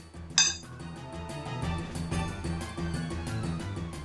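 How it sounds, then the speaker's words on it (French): Cooked apple pieces stirred in a metal pan, with a sharp clink of the utensil against the pan followed by a steady run of scraping, clinking stirring strokes at close range. "Que l'on va faire cuire doucement en les remuant de temps en temps."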